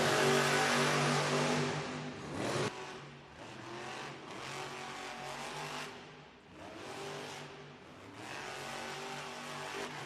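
Monster truck engines roar and rev hard at the start of a run at a Monster Jam arena event in Pensacola, Florida, a loud, sustained mechanical growl swelling and dipping over crowd and arena noise.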